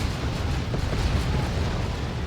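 A rumbling, crackling blast rolls on as a Dreadnought walker is destroyed in Warhammer 40,000: Dawn of War 2, a dense, sustained game explosion with no speech.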